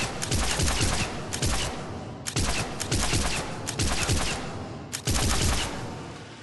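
Arc Pistol in Mass Effect 3 fired at a mid-range target, three long, loud bursts of rapid crackling electric discharges, each a couple of seconds long, separated by brief pauses.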